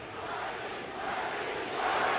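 Large crowd of protesters chanting and shouting together at a postponed Trump rally, a dense, steady roar of many voices that swells slightly toward the end.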